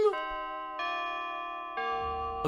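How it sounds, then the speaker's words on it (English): Grandfather clock in the FNAF video game chiming a melody, sustained bell-like tones changing pitch in three steps, clear and resonant with no voices. "A grandfather clock, chiming the same song"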